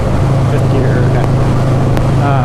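A 2004 Buell XB12S Lightning engine drones steadily in fifth gear while riding, a loud constant low rumble with wind noise.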